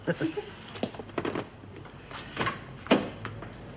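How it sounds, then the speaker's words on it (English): A door being opened indoors, with clunks, a latch click and a sharp knock-like thud near the end, close and moderately loud, amid faint voices. "Well, I've got to open the door to get out, don't I?"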